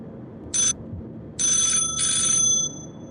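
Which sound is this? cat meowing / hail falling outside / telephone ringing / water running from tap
telephone ringing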